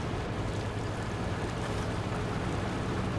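Steady, dense rush of river water flowing in the Snowrunner driving game, a continuous broadband wash with a low rumble underneath and no distinct events.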